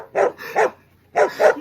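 A dog barks loudly and close by, two pairs of sharp barks separated by a short pause, with no talk over them.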